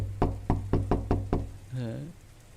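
Six firm knocks on a door in an even, quick rhythm, loud and close, followed by a brief voice.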